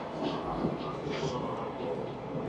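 Inside a public train in Hokkaido, Japan, wheels and carriage hum in a steady low rumble with soft rattles, heard over nearby talk.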